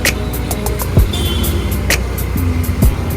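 A car cruises in fourth gear with the clutch released, gathering speed. Its engine gives a steady, close hum, broken by a few light clicks and rattles, with no talking.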